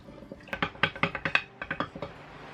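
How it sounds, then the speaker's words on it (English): A stick stirs ginger, sugar and water in a glass jar, giving a quick series of bright clinking taps against the glass, close and fairly loud. "we're going to give it a good stir with the magic stick"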